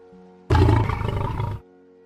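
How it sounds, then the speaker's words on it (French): A lion gives one loud, close roar lasting about a second, rising abruptly and cutting off, set against a quiet low background hum. "It walks slowly, then it roars very loudly."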